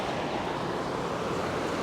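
Ocean waves wash in at a beach as a steady, broadband roar of surf and rushing water. The sound is continuous and fairly loud, with no talk.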